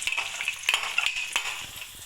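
Chopped onions hit hot oil in a kadhai while cooking chicken aloo palak, giving a steady close sizzle with light stirring scrapes and clicks throughout, no voices.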